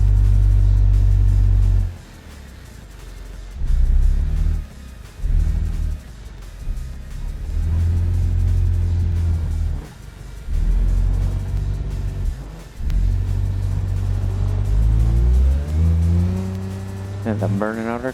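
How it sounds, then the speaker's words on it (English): A car in the BeamNG driving game revs hard in long, loud, rising engine pulls with its clutch burning out, cut by short drops where the revs fall away. The strained drone repeats several times, close and dominant. "And I'm burning out our clutch there."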